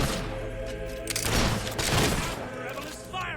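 Gunfire from a rebel shooter in the video game Fable 3, a cluster of sharp shots and thuds in the middle of the clip, mixed with game music and effects.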